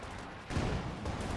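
Anti-tank gun opening fire in Company of Heroes 2, a 3v3 match on Across The Rhine, heard as a dense, heavy burst of gunfire and booms that swells midway and rumbles on amid battle noise.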